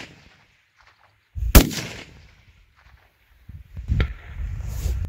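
Precision rifle shots fired at long-range targets of 256 and 557 meters: two sharp, loud cracks about two seconds apart, each trailing into a rolling outdoor echo, with no talk.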